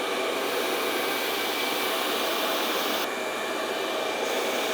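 Hair dryer blowing hot air while hair is styled for a blowout: a loud, steady, close whooshing roar that holds constant throughout, with a brief slight drop in tone partway, and no speech.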